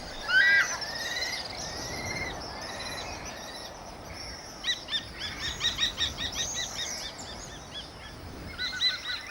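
Shrill, repeated bird calls ring out from a clifftop in kestrel territory, a few chirping bursts early on and then a rapid run of sharp, evenly spaced notes, fairly distant over a steady windy hiss.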